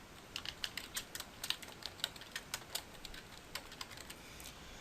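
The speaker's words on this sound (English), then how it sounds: "type a file name that will help you find the file again in the future" Steady keystrokes on a computer keyboard as a file name is entered in a Windows 7 save dialog: a quick, uneven run of light clicks, close and fairly quiet, with no voices.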